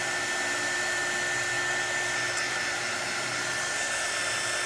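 A small handheld heat or drying tool blows a steady, loud stream of air onto a chalk-paste craft project, an even whirring hiss with no break and no talking.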